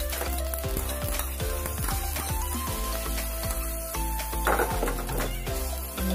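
Tadka tempering for coconut chutney served with masala dosa, sizzling in a pan: a steady, fairly loud frying hiss with a few sharp crackles and pops throughout, and no talk.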